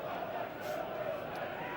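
Football crowd noise at the Memorial Stadium in Bristol during Bristol Rovers against Swindon Town, a steady, dense roar of many voices that holds throughout with no breaks.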